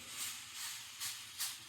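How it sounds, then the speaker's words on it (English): A travel clothes steamer on its medium setting gives off a soft, steady hiss. It swells in a few gentle pulses and stays faint throughout. "That's medium steam"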